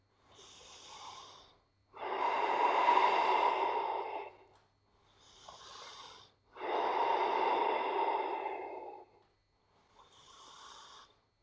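Slow, deep breathing during a yoga pose, close and audible: alternating short inhales and longer, fuller exhales in a steady unhurried rhythm, with quiet pauses between breaths.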